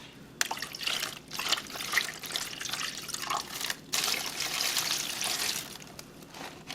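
Water poured from a tap or container into a pot for steaming beef tamales: a steady splashing, trickling stream with a few brief pauses, close and moderately loud, no talking.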